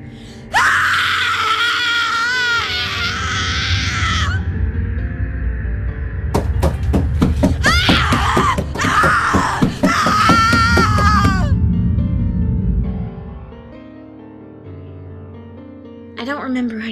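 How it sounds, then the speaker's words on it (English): A woman screams repeatedly, high and wailing, in long anguished bursts with sharp impacts and clatter between them, loud and close rather than distant, followed by a quieter stretch and a final short cry. "I heard her screaming from far away."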